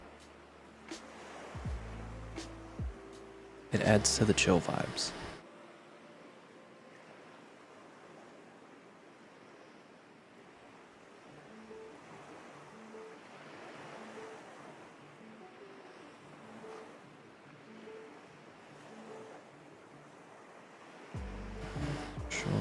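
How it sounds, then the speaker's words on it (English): Soft, steady ocean wave ambience washes quietly for the whole stretch, broken by loud, brief noise bursts near the start and end. A person speaks briefly over it. "Need some waves."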